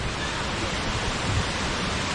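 Khlong Lan waterfall in Thailand rushes on a rainy day, a dense, even roar of falling water close by, loud and unbroken for the whole moment.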